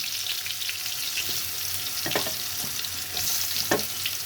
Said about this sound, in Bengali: আমি তার আগে একটু বেগুনটা ভেজে নিতে চাইব